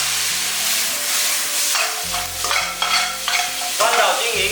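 Duck meat sizzles and hisses as it is stir-fried in a wok with garlic, ginger, spices and bean paste for beer duck, a steady frying crackle with stirring bursts and a low hum underneath.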